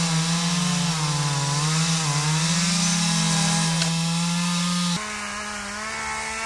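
A chainsaw cuts through trees while clearing a grove to reopen land for grazing, a loud, close, sustained buzzing whine that rises and dips in pitch as the load changes, dropping abruptly toward the end.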